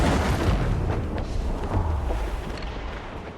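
Ship cannon fire in Assassin's Creed IV Black Flag, a heavy continuous rumbling boom of broadside volleys, loud and sustained throughout before slowly fading.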